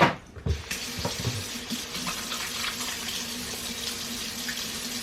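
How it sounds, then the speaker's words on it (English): Hands being washed under a running kitchen tap while preparing a Thanksgiving meal: a brief clatter, then a steady, close rush of water splashing into the sink that continues throughout. "I'm gonna wash my hands."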